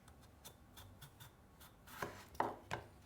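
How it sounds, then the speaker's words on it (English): Knife chopping through a potato on a cutting board to square it off for fries: a series of crisp, close cuts, sparse at first, then louder, sharper chops near the end. "So I'm just going to cut a little bit of the potato off the bottom so our potato stands up."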